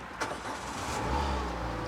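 Somebody cranks a car engine, which catches into a low, steady idle. It sounds fairly quiet and close, with a brief click near the start and no speech.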